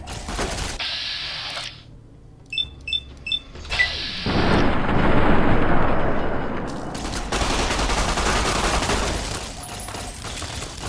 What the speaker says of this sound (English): Someone's got a plasma pistol!